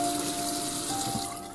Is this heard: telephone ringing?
no